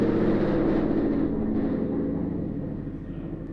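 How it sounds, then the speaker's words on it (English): A loud low-flying airplane roars overhead above a house, the rumble strongest at first and then slowly fading as it passes, with no talking. "Y'all, I thought an airplane was about to crash into our house. That was so loud."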